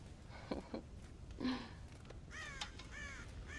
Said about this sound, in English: God damn crows!